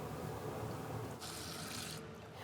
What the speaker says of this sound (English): I'm just adding a little drop of water at the time to make a soft dough